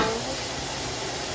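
Still partly frozen ground beef sizzling in a hot pan for a Sloppy Joe, a loud, steady, broad frying hiss close by with no speech.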